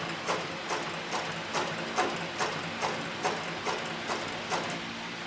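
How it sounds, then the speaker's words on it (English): Leather sewing machine with a variable-speed servo motor, size 277 thread and size 328 needle, stitching at its slowest: a steady, evenly paced mechanical clacking of about ten stitches, close and fairly quiet, with no talk. "this right now is as slow as the motor will go, and you can see the stitching is very, very slow, very, very controlled"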